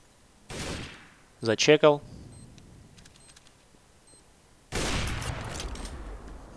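Counter-Strike gunfire plays as a short rapid burst of shots, followed by a longer stretch of dense firing and clatter. A brief spoken remark comes between them.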